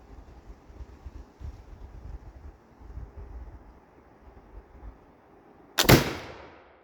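A Pedersoli Indian Trade Gun smoothbore musket fires a single loud, sharp shot outdoors after a few seconds of soft wind rumble, followed by a short fading echo.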